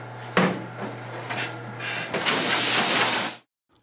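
A 3M-Matic 7000r high speed case sealer runs with a low steady hum, broken by sharp mechanical clacks and a long hissing, rushing pass before it stops abruptly.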